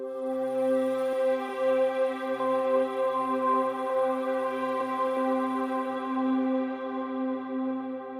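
A single sustained C note from a resampled, layered synth pad combining DX7 and Korg M1 tones rings out alone, rich in steady harmonics and fading gradually toward the end.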